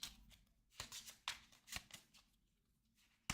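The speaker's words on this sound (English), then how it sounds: "And once again, shuffle these up." A deck of Eldritch Horror board game cards is shuffled close up in several quick riffling bursts with soft slaps between them, then a pause near the end.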